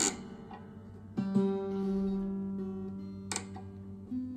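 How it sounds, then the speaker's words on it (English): On a 95-year-old guitar, the G string is plucked a few times, its quiet tone ringing and sustaining between soft attacks, close and faint with no talking. "Listen to this G string."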